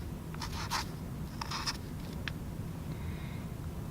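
Pen writing numbers onto paper, several short, close scratchy strokes in quick bursts over a steady low background hum, with no talk.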